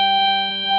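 A violin sustains a single wrong G sharp, one steady bowed note lasting under a second, close and fairly loud, with no talking.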